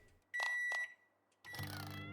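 A microwave timer in the survival game Project Zomboid gives two short electronic beeps, followed by a longer, louder buzzing tone, all alone and close.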